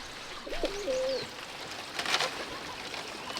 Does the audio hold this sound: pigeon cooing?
yes